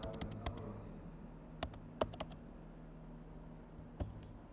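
Typing on a computer keyboard while writing inline CSS, a few scattered clusters of close, crisp key clicks separated by quiet pauses.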